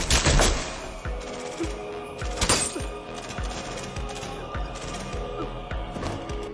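Wild, rapid gunfire rattles through a movie scene as a woman grabs a gun and shoots indiscriminately, with dense repeated cracks and clattering mechanical noise over a loud, busy soundtrack.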